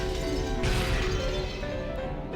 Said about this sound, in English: All over the mansion, there were loud beating sounds that might be called knocks at the sound of shattering glass.